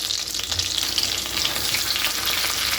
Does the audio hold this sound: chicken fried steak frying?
yes